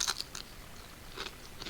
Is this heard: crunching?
yes